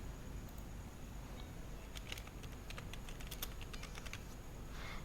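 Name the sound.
typing on a computer keyboard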